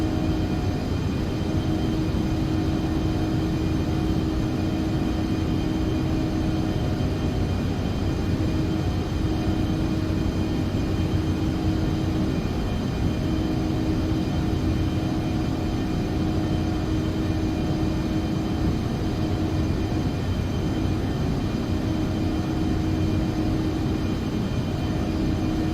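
Steady cockpit drone of an Embraer E145 regional jet on landing approach in the X-Plane 11 flight simulator, a constant loud engine and airflow hum with a low rumble, unbroken and without speech.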